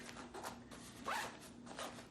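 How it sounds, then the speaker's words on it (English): A zipper runs along the top of an expandable travel packing bag loaded with clothing, a couple of quick close zips with one longer, louder pull in the middle, heard alone at close range. "zip down the top of it here."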